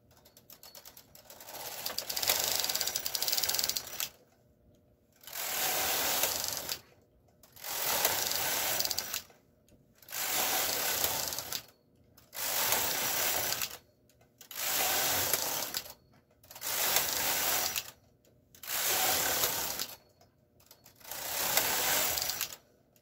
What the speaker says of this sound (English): we are going to knit a whopping 12 rows of rib